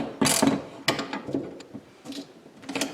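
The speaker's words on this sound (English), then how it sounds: "So basically just work back and forth to get the spring to compress." A Tusk spring compressor is cranked on a motorcycle shock spring, giving a few close metallic ratcheting clicks and clunks in uneven bursts with short pauses between turns.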